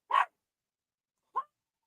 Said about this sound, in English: My dog's barking